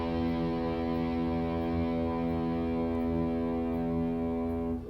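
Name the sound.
low E note on electric guitar for tuning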